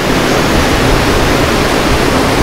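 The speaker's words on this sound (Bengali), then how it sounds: "এই হচ্ছে রালা ফলস।" Rahala Falls on the road to Rohtang Pass near Manali, a mountain waterfall with reduced early-winter flow, giving a steady, loud, close rushing roar of falling water with no break and no voices.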